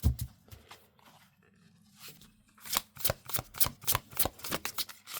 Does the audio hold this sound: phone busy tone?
no